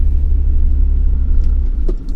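A car with engine trouble rumbles steadily while driving, a loud, close, continuous low drone with faint clicks near the end.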